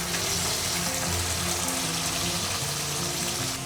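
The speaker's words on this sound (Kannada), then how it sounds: "ಟೊಮ್ಯಾಟೊ ಸಿಪ್ಪೆ ಬಿಡೋವರೆಗೂ ಇವರು ಅದನ್ನು ಫ್ರೈ ಮಾಡ್ಕೊಳ್ತಾರೆ" Chopped tomatoes frying in a pan for misal pav give off a steady, loud, close sizzling hiss that continues without a break.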